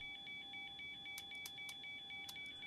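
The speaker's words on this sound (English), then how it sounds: "That's basically telling me I'm running on batteries only, which isn't good." Flight simulator warning alarm signalling the aircraft is running on batteries only: a steady electronic tone with rapid repeating beeps throughout, fairly faint against low background hum, with a few sharp clicks.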